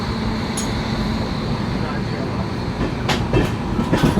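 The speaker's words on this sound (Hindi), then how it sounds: "ट्रेन अपनी निकल गई है अभी न्यू जलपाईगुड़ी जंक्शन से।" The Rajdhani Express running soon after leaving New Jalpaiguri Junction: a loud, steady onboard rumble with rail clatter and a few rhythmic clicks toward the end.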